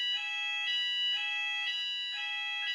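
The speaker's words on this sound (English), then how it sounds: "We were interrupted by a fire alarm there" A fire alarm sounding during a rugby player's interview, a shrill electronic tone pulsing in regular bursts about twice a second, steady and alone.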